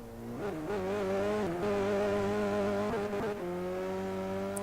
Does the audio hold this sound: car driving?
yes